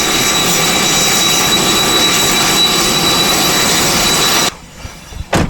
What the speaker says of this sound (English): we got a plane that's getting ready to take off